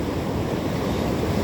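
Ocean surf washes up onto the shore right beside the listener's feet, a loud, continuous roar of churning water mixed with wind buffeting the microphone.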